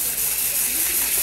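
A steady, loud hiss of spray, continuous and close for its whole short span, alone with no voices over it.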